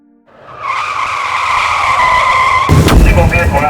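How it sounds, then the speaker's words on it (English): A car skids at about 50 mph with a long, loud tire squeal building over a few seconds, then slams into a tree with a sudden heavy crash and clattering debris. "Single vehicle accident, approximately 50 miles an hour, headed one into a tree."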